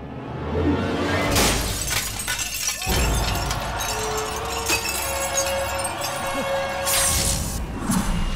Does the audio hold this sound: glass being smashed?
yes